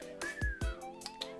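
A person whistles one faint, wavering tone that falters and trails off, with a couple of soft thumps underneath and no speech.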